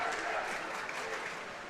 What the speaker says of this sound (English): Sentinel fans had something to cheer about a moment ago, and now they really do with the goal here.